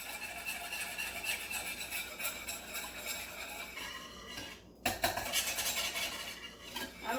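A whisk scraping and clinking against a simmering pot as Goya seasoning is stirred in, a steady rapid rattle of metal on metal with a brief pause midway, close and clear, no talking.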